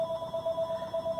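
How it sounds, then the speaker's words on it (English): A telephone ringtone repeats in a steady electronic pattern across the short span, moderately loud and alone, with no talk over it. "we're going to get a bunch of phone calls because people don't know how to act"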